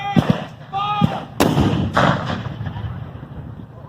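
Cannon firing at a Civil War reenactment battle in Hartford City, with several heavy booms and thuds in quick succession, near and loud, followed by a fading rumble.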